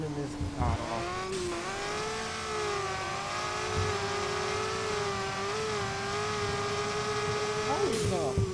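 3,000-horsepower car engine in a racing video game, droning and revving continuously with shifting pitch and a brief tire squeal, under steady talk.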